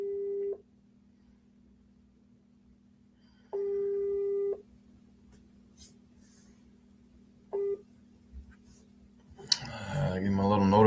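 A telephone call rings out in three separate tones with long gaps between them, over a steady low hum, followed by people talking at the end.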